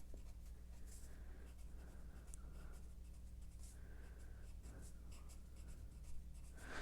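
A pencil scratches teeth onto paper while drawing a Godzilla face, with soft, quick, repeated strokes close by and no voices.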